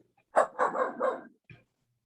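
A dog barks nearby in a quick run of three or four fairly loud, close-spaced barks, then gives one shorter bark after a brief pause.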